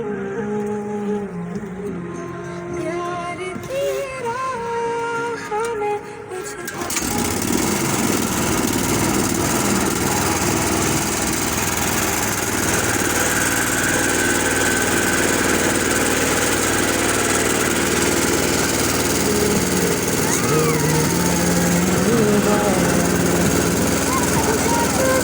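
A motor boat engine starts up and runs on a lake outing, its loud continuous drone dominating after a few seconds of earlier chatter and background noise, with voices faintly beneath.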